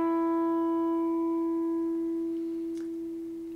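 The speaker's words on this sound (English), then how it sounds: "You're going to play a 5th fret harmonic." Natural harmonic rung on a guitar string lightly touched over the 5th fret: one clear, pure bell-like tone with faint overtones, sustaining alone and slowly fading.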